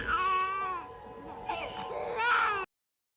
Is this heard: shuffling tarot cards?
no